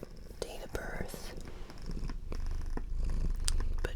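Dolce, an adopted cat of about 13, purrs as a low, steady rumble close by, with soft whispering over it throughout.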